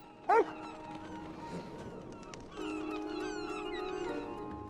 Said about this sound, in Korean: 그때 맥스가 짖기 시작하자 반대편으로 날아가는 새떼들